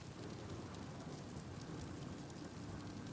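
A rainstorm in Oblivion Remastered, a constant faint hiss of falling rain with low rumbling underneath and no distinct clap of thunder.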